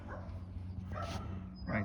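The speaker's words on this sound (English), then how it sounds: "Got a dog trying to get me" A dog barks and whimpers outdoors at a demolition site during roof work, short yelps over a steady low rumble of background noise.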